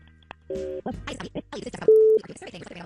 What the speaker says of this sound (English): So we're going to make the phone call right now.